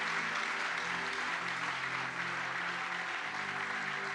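A church congregation applauds and cheers loudly for the Lord, a dense continuous wash of clapping with raised voices that carries on throughout.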